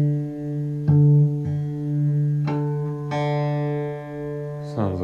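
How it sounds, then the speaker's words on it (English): Acoustic guitar in DADGAD tuning rings out with a 12th fret harmonic and the open D string, several sustained plucked notes overlapping with a clear, steady ring, close and fairly loud with no talking. "I can double check with the 12th fret harmonic and the open D string."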